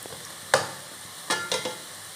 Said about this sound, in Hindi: अभी हमारे प्याज ना थोड़े ब्राउन हो गए, इतने ही ब्राउन करने हैं